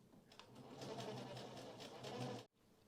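A sewing machine stitches fabric piping, a steady continuous whir running for about two seconds before cutting off abruptly, with no talk over it.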